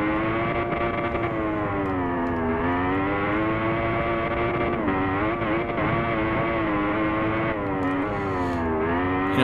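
Motorcycle engine in the racing game Ride, a loud, continuous high-revving whine held for about nine seconds, with pitch dipping and rising as the bike shifts and throttles, and no talking.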